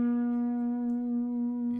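One slide guitar note in open D tuning, played with the slide resting between frets so it sounds slightly flat, sustains steadily and alone for nearly two seconds.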